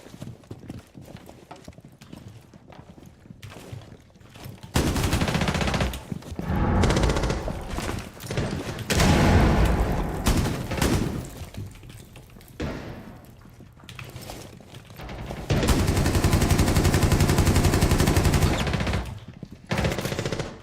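Sustained bursts of automatic gunfire in the Siege tactical shooter game, loud and dense, with heavy volleys from about five seconds on and another intense stretch near the end, mixed with thumps and game noise.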